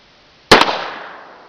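A single sharp gunshot fired at homemade shooting targets outdoors, loud and close, with a quick echo and a long fading tail, and quiet before and after.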